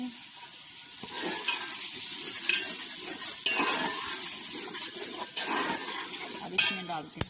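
Peas frying in a pot for matar pulao, a soft steady sizzle under repeated stirring with spoon scrapes and clinks against the pot, fairly quiet and close.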